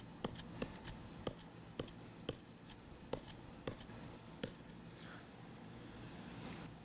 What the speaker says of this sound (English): Just stabbing into some basic 2x4s.